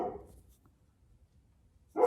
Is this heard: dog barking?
yes